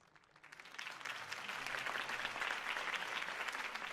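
A large crowd applauding in a Batman video game, the clapping swelling from quiet to a sustained, dense roar of hands that stays fairly distant.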